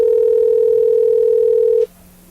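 A loud, steady telephone tone sounds on a call placed into a radio program, holding unbroken for nearly two seconds before cutting off abruptly into a low hum.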